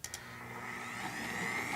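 An electric stand mixer in a home kitchen starts up and runs with a steady motor whir, holding an even level close by with no talk.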